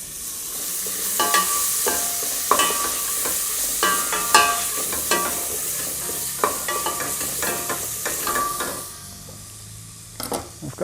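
A pinch of asafoetida and other ingredients sizzle in a hot pan for a vegetarian pumpkin and coconut curry. A steady frying hiss runs underneath, broken by repeated clinks and scrapes of a utensil stirring against the pan.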